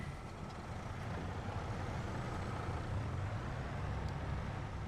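A heavy truck engine idles and rumbles steadily in the farming game Farming Simulator 25, with a constant low drone and broadband hiss that stays loud and unbroken throughout, with no speech over it.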